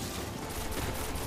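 In the video game Destiny, a dense barrage of gunfire rattles on continuously and loud, shot after shot blurring into steady automatic fire with no talk over it.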